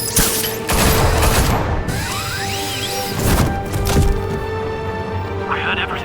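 Gunfire bursts ring out in the Batman: The Telltale Series video game, a dense fusillade of loud cracks and booms mixed with voices and music, with several sharp shots spread through the scene.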